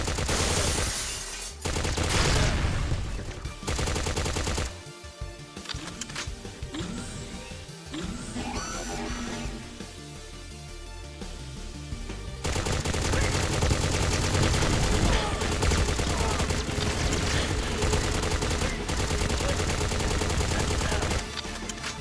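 Gunfire in the video game Agent 64 rattles on loudly for the whole stretch, continuous automatic bursts with a brief thinner lull midway before the heavy firing resumes.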